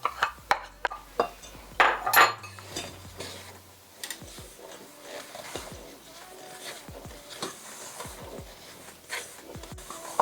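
Shredded cheddar cheese is mixed into scone dough in a bowl, with a run of irregular clinks and knocks from a utensil against the bowl, close and moderately loud.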